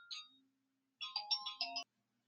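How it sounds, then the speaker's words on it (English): A phone ringtone plays a brief melodic electronic chirp, a pause, then a longer tuneful phrase of several notes, close and clear with silence around it. "I hope you guys heard the phone ringing in the middle of me delivering the message that I just gave."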